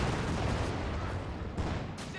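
Dense, continuous battlefield gunfire from a Company of Heroes 2 match, with Browning automatic rifle fire amid a steady roar of shots and artillery-like rumble, loud and unbroken throughout.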